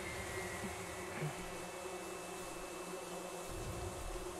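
A bee swarm buzzes in a Neverwinter game battle as a steady, dense insect drone that stays faint and even for the whole stretch, with no speech.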